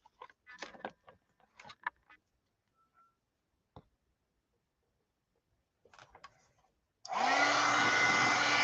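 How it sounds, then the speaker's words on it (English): A hair dryer switches on near the end and runs loud and steady, drying cheesecloth, after a stretch of scattered handling clicks and rustles. "Now, let's dry the cheesecloth real quick."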